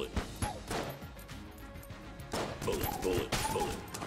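Rapid bursts of Bullet gun fire from the video game Enter the Gungeon crackle in quick succession, mixed with crashes and impacts in busy game action, fairly faint overall.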